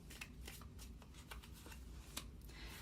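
Tarot cards riffled and shuffled in a run of quick papery flicks and snaps, close and fairly soft, with one sharper slap near the end.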